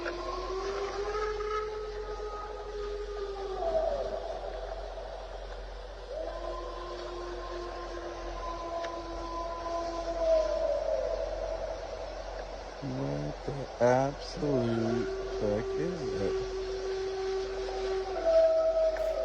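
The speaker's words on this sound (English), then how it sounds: "It's a wolf." Drawn-out, wavering wolf howl from a creepy ghost clip, several long rising and falling calls sounding somewhat distant, with a cluster of sharper yelps near the end and a voice talking over it.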